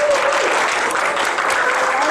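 An audience at a Jeunesse business meeting applauds steadily to welcome a speaker on stage, a dense wash of clapping hands holding at a loud, even level throughout.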